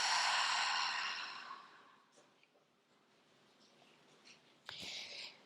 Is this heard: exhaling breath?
yes